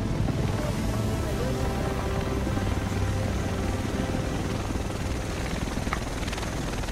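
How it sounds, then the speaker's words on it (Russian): A helicopter in the video game Tom Clancy's The Division makes a steady, broad rotor and engine roar that stays constant throughout with no talk over it. "Вот и вертолет."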